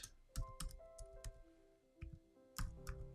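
Someone types on a computer keyboard in quick, irregular bursts of close, crisp key clicks with short pauses, over a soft tonal background.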